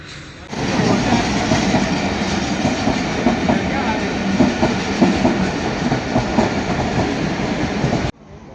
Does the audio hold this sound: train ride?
yes